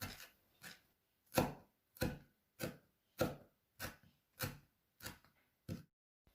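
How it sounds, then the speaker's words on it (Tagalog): A knife chops parsley on a cutting board in about ten separate sharp thuds at a slow, fairly even pace, close and clear with silence between strokes. "tadtarin ng katamtamang pino ang parsley"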